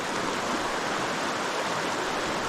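Mountain stream in the Smoky Mountains backcountry, water rushing in a steady broadband wash with no letup, close and fairly loud, no voices.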